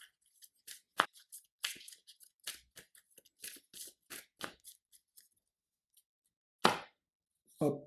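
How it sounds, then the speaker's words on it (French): Cards from a Marvel Champions encounter deck being shuffled and discarded one by one: a string of crisp, close snaps and flicks at an uneven pace, with short pauses and a couple of louder slaps near the end. "Je mélange le deck rencontre. Et puis après, je défausse jusqu'à obtenir un sbire."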